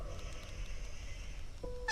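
A goose character in a video game lets out a short, sad squawk near the end, heard after a quiet stretch of low rumble.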